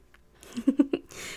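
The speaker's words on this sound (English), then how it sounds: "I think we have some kitty cat visitors for today" A house cat gives a short run of about three or four quick meows up close, each brief and clear, against a quiet room.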